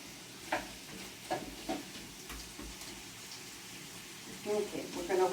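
Zucchini cooking in a pan gives a soft, steady sizzle, broken by a few light clinks and stirring taps, with a faint voice in the background.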